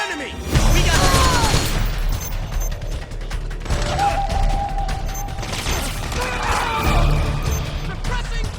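In the video game Metal Gear Solid 4, loud gunfire rattles and booms amid mechanical clatter and crashes, with shouted voices over the combat.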